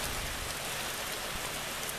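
Heavy downpour during a thunderstorm in Simuna, Estonia, a dense, steady hiss of rain pouring onto surfaces close by, constant and loud throughout with no pauses.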